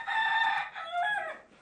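A rooster crows close by, one loud harmonic call of about a second and a half that rises, holds, then breaks into a falling second phrase. The bird is of a breed used for cockfighting.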